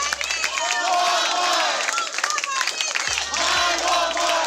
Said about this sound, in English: It is still mandatory for Walmart employees to recite the company cheer once a day in all of their stores